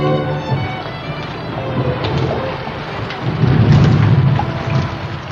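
Steady rain pours within a radio drama adapted from Chekhov, with thunder rumbling low and swelling into a louder roll midway, the downpour continuing close and unbroken throughout.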